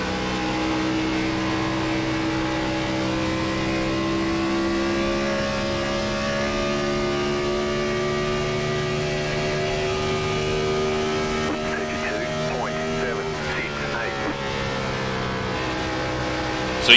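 NASCAR stock car engine in the iRacing simulator on the Chicagoland oval, a loud sustained drone holding steady high revs for the whole run, with faint pitch shifts near the end.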